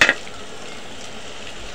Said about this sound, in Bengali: দেখুন এগুলো আমি একটু ভালো করে ভুনে নেব।